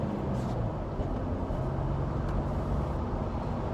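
A Jeep Wrangler JL fitted with an air intake drives while its engine is opened up, giving a steady, loud, low rumble from inside the vehicle without any clear pauses.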